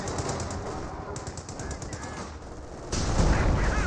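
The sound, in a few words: rifle and machine gun fire in video game Company of Heroes 2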